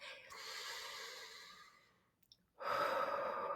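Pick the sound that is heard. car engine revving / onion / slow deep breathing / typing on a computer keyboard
slow deep breathing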